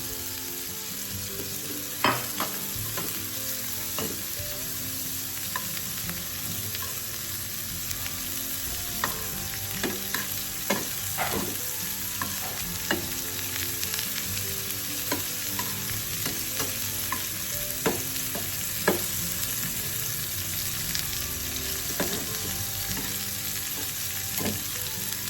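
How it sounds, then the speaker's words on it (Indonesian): Garlic and shrimp fry in a pan with a continuous soft sizzle, punctuated by frequent clinks and scrapes of a utensil stirring over about twenty-five seconds, no talking. "Jadi sebentar aja untuk menumis bawang putih dengan udang ini ya."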